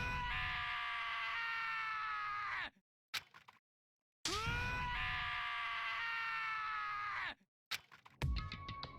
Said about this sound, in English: As Ishimaru's sad screams invaded our skulls